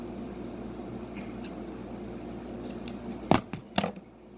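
Scissors snip a small piece of tape with two or three quick, crisp cuts near the end, close by and clear above a faint room hum, with no talking.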